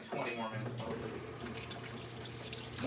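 Water rushes steadily into a washing machine drum, a continuous close splashing flow that runs unbroken, with a faint voice underneath.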